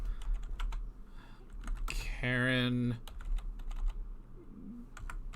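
Clattering computer-keyboard keystrokes come in quick bursts close to the microphone, with someone speaking briefly in the middle.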